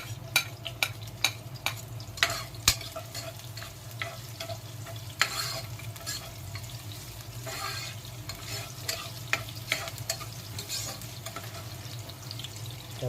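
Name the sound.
garlic sizzling as it is stirred in the pan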